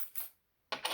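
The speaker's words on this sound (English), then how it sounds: "I'm going to grab a few coins out of here" A few coins drop and clink, two short metallic jingles separated by a brief silence, close and clear with no talking.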